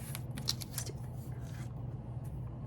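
Scissors fussy-cut images out of magazine pages, a quick series of crisp snips and paper rustles at close range, with a low background hum and no talking.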